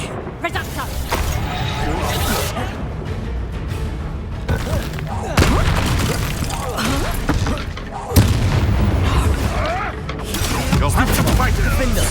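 Booming spell blasts from Bombarda and similar explosion spells in Hogwarts Legacy. Heavy, repeated bursts and crashes run continuously through loud combat, with frequent talking over the din.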